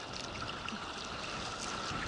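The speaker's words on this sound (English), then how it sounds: "there's still water pouring off it and the wind's blowing it down" A Fiordland waterfall pours off a cliff while wind blows the spray down, making a steady, unbroken rushing roar of water and wind.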